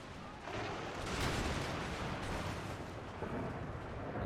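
Musket volleys and artillery fire from an Empire Total War battle blend into a dense, continuous roar of distant gunfire and booming, rising slightly after the first half second and staying heavy throughout.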